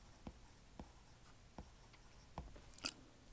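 A pen scratching on paper while a physics heat problem is worked out, faint short strokes spaced irregularly, with a quiet background hiss.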